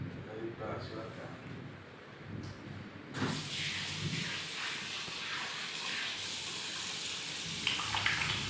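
Hands washed under running water in a physiotherapy skills lab, a steady hiss of water from a tap that starts and continues, with people speaking nearby.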